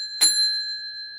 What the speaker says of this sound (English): The bell is okay though.